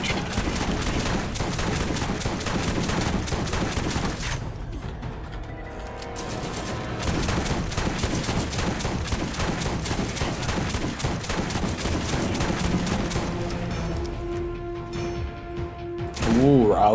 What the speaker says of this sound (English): rowdy machine gun